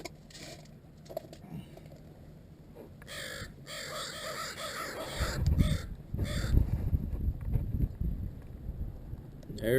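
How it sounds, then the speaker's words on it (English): Crows caw a few times at a distance outdoors, their calls mixed with ravens nearby, over a low rumble and scattered thumps and rustles. "There's your crow."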